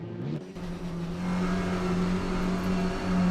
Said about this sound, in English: The lights go out, and we are off to a flying start.